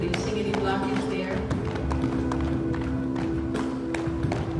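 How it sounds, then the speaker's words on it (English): Hands knocking on the hips during a qigong exercise give a series of soft, rhythmic taps over a steady background, close and moderately loud. "we want to work on the lower body by starting to knock on the hips"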